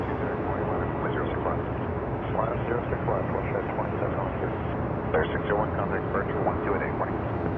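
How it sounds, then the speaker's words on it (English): A Dash 8 turboprop passes at Toronto Pearson airport, giving a steady, loud, broad engine roar that holds level throughout and is heard alone. "And we have a Dash 8."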